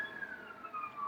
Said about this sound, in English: there's a ambulance outside